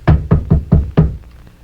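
Five firm, evenly spaced knocks on a door, close and loud, each a sharp thud with a short decay, then quiet.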